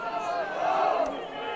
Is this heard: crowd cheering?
yes